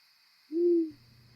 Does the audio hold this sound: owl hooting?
yes